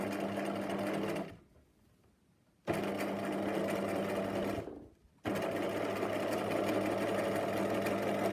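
A sewing machine stitches elastic onto fabric in two loud, steady whirring runs, each broken by a short quiet pause, close and continuous.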